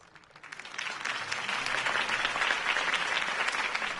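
A crowd breaks into applause after a campaign speech, the clapping swelling quickly from quiet to a steady, full roar and holding there at a moderate distance.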